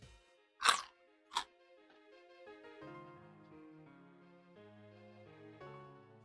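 Two sharp crunches of crunchy, sweet pickled daikon from a homemade kimchi batch, close and distinct, followed by soft background music.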